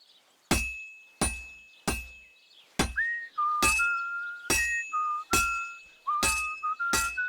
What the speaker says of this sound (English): You've got to hammer the workpiece evenly.